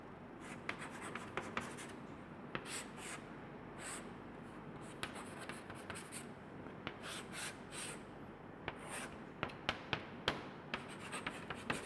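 Chalk or marker writes on a board during a chemistry lesson on amines, with rapid scratchy strokes and taps coming in bursts over a quiet room hum. Nobody speaks.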